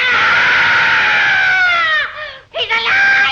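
A woman screams in the 1935 film Bride of Frankenstein, a loud, sustained high-pitched shriek that wavers downward, breaks off briefly and then resumes.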